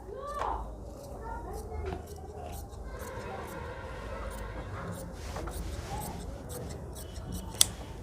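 Scissors snip through blouse fabric close by in repeated cuts with short pauses, while someone speaks under the steady cutting.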